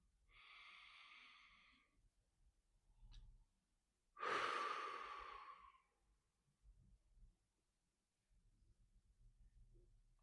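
Slow, audible breaths during a relaxation exercise: a long breathy inhale, a pause, then a louder, fuller exhale sighing out, with faint low background rumble between breaths and no talking.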